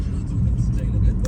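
Mahindra XUV 3XO diesel automatic rolling downhill on a mountain road with the brake applied, giving a steady low engine and road drone inside the cabin while a person talks over it.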